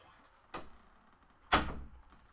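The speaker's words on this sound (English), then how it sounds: "Close the door." A door shuts at home as two separate thumps, a lighter knock and then a heavier bang that fades out, with a quiet room between them.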